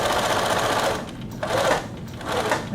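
A sewing machine stitches a pocket for an atikłuq, a loud close mechanical whir with fast needle chatter that slows and speeds up again, without speech.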